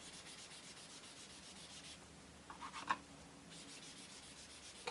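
Green ink rubbed onto card to build grass for a deep box frame picture, a steady soft dry scrubbing that runs throughout with a few light taps and scuffs midway.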